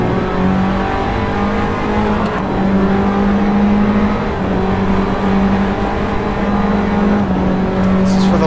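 Formula Abarth race cars roar down the straight at Imola in a steady, loud engine drone with sustained high revs throughout, close and continuous with no pause.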